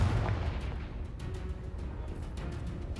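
A Confringo blasting spell explosion in Hogwarts Legacy, a burst of deep booming impact followed by a rumbling tail and scattered sharp cracks, fairly close and alone.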